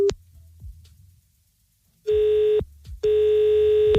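A phone call being placed back: a steady electronic telephone tone sounds briefly at the start, then returns loud and sustained after a pause, broken by short gaps, with no voices.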